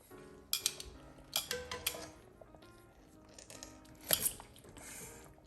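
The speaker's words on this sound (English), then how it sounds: "So I am going to rotate my corned beef brisket here." Corned beef brisket being turned in a braising pot for St. Patrick's Day, with metal utensils clinking and scraping against the pot in several sharp bursts and a wet shuffling between them.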